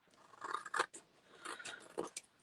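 Scissors snip through paper for a scrapbook page, a handful of quiet, close crisp cuts in uneven bursts separated by short pauses.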